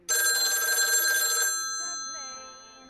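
A telephone bell rings loudly in one sustained burst of about a second and a half, then stops and its tone fades away, with no one speaking.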